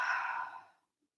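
A single soft breath is pushed out through the mouth, a close, gentle airy exhale that fades away within a second.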